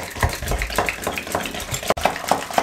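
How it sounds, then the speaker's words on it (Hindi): Eggs being whisked in a bowl with garlic ginger paste, oregano and black pepper, a steady rhythmic tapping and swishing of utensil against the bowl, close and moderately loud. "अंडों को हमने अच्छे तरीके से फेंट लिया"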